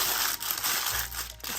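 Material for homemade candy is crumpled and crushed by hand, giving a continuous dense crinkling that is close and fairly loud, with brief pauses, and no talk over it.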